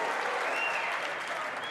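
A snooker crowd at the Masters 2024 quarter-final claps warmly after a pot, a thick, even wash of applause that holds steady with a brief faint whistle.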